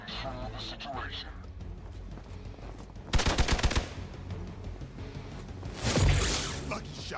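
Gunfire in the video game Marvel's Midnight Suns, two loud bursts of rapid shots standing out over game music and effects, with a person talking at times.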